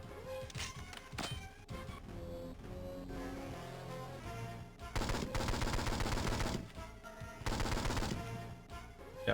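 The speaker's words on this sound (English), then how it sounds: "We'll fire as much as it takes." Gunfire fills the 007: Nightfire shooter on the Game Boy Advance, with rapid bursts of automatic shots over game music and two dense, loud volleys in the latter half.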